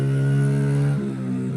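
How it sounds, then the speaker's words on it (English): A small engine on a little mini bike drones with a steady buzzing hum as it passes nearby, its pitch dipping partway through as it goes by, with no talking. "wait for that guy to go by on his little mini bike"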